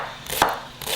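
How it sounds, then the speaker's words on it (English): Knife chopping onions on a board, a couple of close, crisp chopping strikes within a second, loud and without talk. "Now we're just going to finely dice up the 3 onions."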